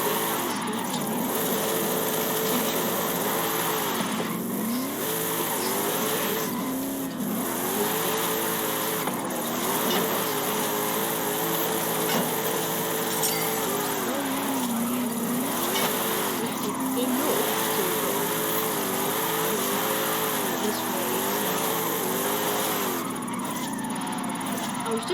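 A Ford Transit van driven in Forza Horizon 5, its engine droning continuously with rising and falling revs throughout, a player talking over the top.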